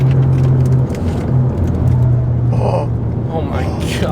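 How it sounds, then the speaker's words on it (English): Tires on a VW Golf Alltrack fitted with a thick new sway bar give a brief, faint squeal during a spirited drive, over steady road rumble and engine noise while people talk inside the car. "There's a little tire squeal there."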